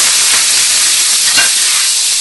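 Marinated chicken for chow mein fries in a hot pan, a loud, dense, close hiss and sizzle that stays steady, with slight surges, and no talking.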